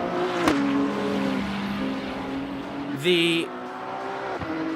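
A BMW GT race car drives on a circuit at a United States Grand Prix round, its steady engine drone changing pitch with gear shifts and a brief high whine. A commentator talks over it.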